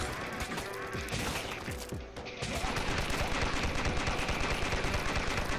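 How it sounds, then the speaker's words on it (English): Rapid machine gun fire in the zombie shooter game Dead Ahead: Zombie Warfare, a dense rattling burst that briefly drops out, then resumes louder and continuous, close and harsh. "I can use the machine gun. Let's do that."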